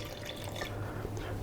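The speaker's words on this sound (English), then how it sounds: "This is 118 grams of filtered water at room temperature." Room-temperature filtered water poured into a mixing bowl of sourdough starter, a steady close trickle and splash lasting the whole short moment with no talking.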